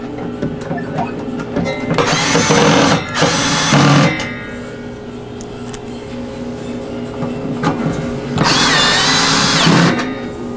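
A power drill drives screws to fasten down a G07 arcade monitor, with three loud whirring bursts of several seconds each separated by quieter handling noise.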